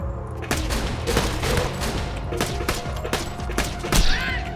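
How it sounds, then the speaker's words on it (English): Rapid pistol gunfire in Borderlands 2: a string of sharp, loud shots at irregular intervals over a dense layer of game noise, with a few sharper bursts toward the end. "See if I can score that shot from here with a pistol"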